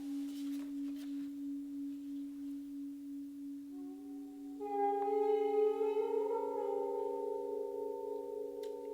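A 31-inch Chinese nickel silver yin yang gong tuned to C#3 is struck with a stick, sustaining a steady low hum before a second strike blooms into a bright, shimmering wash of overtones that slowly rings on.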